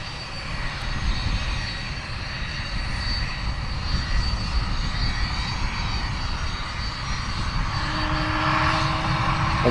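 Hawk T1 jet trainers at RAF Valley, their engines holding a loud, continuous roar and whine close by, with a rising tone creeping in toward the end.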